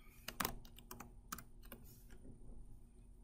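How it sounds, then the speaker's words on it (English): Fingers type on a computer keyboard to enter a flight destination: a quick irregular burst of close, soft clicks that trails off into quieter taps. "First, you're going to type in LAX, which is our departure airport."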